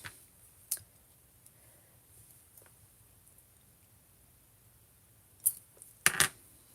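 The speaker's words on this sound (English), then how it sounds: "I will stamp this in black ink on my black paper" A rubber stamp inked in black is pressed onto black paper, giving a faint early tap, then a cluster of sharper close knocks and presses near the end in an otherwise quiet room.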